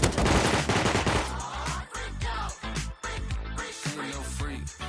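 Rapid automatic gunfire in a survival video game, dense and loud at first, then breaking into short bursts and single shots.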